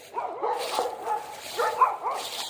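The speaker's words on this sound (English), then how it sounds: "People's dogs over there raising hell." Several dogs barking and yipping at a distance outdoors, a continuous overlapping chorus of excited barks with a few higher yelps, moderately loud and with no talk over it.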